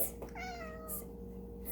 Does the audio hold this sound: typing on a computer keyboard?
no